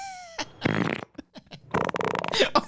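A mouth-made fart noise repeats in several loud, sputtering bursts over roughly two and a half seconds, broken by short gaps, with some background chatter around it.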